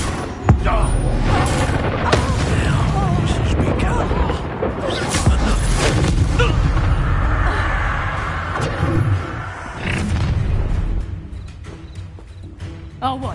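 Stupefy spell blasts in Hogwarts Legacy hit as sharp, booming impacts in a busy battle, mixed with game music, running and other clatter.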